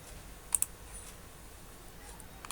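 A computer mouse clicks in a quick double click, then once more a couple of seconds later, each click crisp and faint against quiet room tone.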